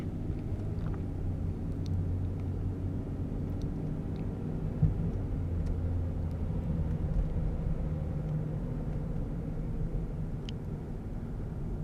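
A car climbs steep, snow-covered Maple Street in Norwich, Connecticut, its engine a steady low rumble with road noise throughout and no talking.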